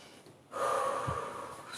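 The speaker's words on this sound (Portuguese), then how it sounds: "Respirar profundamente, amplo, suave. Inspira pelo nariz." One deep breath is drawn in through the nose during a guided breathing exercise. The inhale is close and airy, starts abruptly and is held steadily for over a second.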